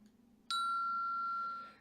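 A single quiz show answer bell dings once, a clean metallic tone that rings on and slowly fades, alone against a faint background hum.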